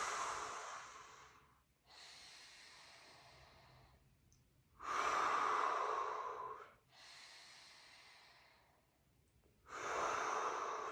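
Slow, deep breaths during a neck flexion stretch, with long airy inhales and exhales alternating in a steady rhythm, each lasting a couple of seconds, close and fairly quiet, with no talking.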